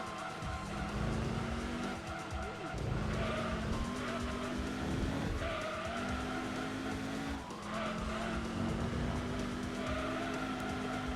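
A muscle car in the racing game Gran Turismo 2 drifts on grippy tyres, with sustained tyre squeal over a revving engine whose pitch climbs and drops through repeated long skids, no talk.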